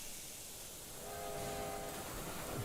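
A steam train whistle in Railway Empire 2 sounds once, a tonal blast rising over low rolling rail rumble, fairly close, with no voices.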